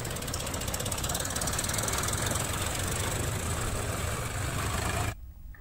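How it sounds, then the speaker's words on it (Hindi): Rumbling tractor engine with a steady knocking chug, the tractor pulling a trolley loaded with illegally mined gravel, loud and continuous before cutting off abruptly near the end. "ड्राइवर अवैध बजरी से भरे ट्रैक्टर और ट्रॉली लेकर वहां से भागते हुए दिखाई दिए।"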